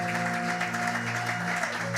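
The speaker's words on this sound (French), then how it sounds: "Est-ce qu'on peut acclamer pour Jésus?" A church congregation applauds and cheers for Jesus at a celebration service, with steady, dense clapping throughout and sustained tones from music or voices underneath.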